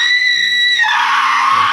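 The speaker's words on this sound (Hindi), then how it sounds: "तान्या के गले से बहुत तेज चीख निकली" A woman lets out a loud, sustained high-pitched scream in an audio drama, shrill and piercing for nearly two seconds, shifting pitch midway, alone without speech.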